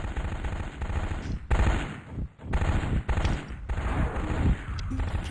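Rapid bursts of machine gun fire from a mech in the MechWarrior 2 video game, loud and close, chattering in several long volleys with brief gaps between them.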